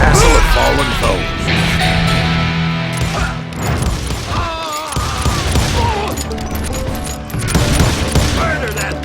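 Gunfire from hired gunmen in the Western video game Call of Juarez Gunslinger: rapid volleys of loud shots with crashing impacts, close and chaotic, interrupted by shouting voices.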